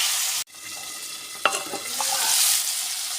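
Curry being stirred in a pan with potatoes and chopped onion, a soft sizzling hiss broken by scraping spoon strokes against the pan, close and steady with no talking.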